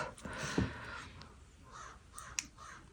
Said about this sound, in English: the crows are here